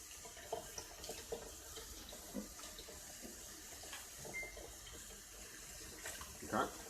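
Water runs steadily from a household tap in a Flint home, a constant hissing flow close by into a sample bottle, with faint clinks and a few brief sounds over it, and a voice murmuring softly underneath.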